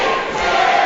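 A wrestling crowd at an RWA event roars and chants a name in a dense, loud, sustained wall of voices with no pause.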